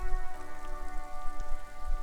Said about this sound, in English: Rain falls on the great city of Revachol.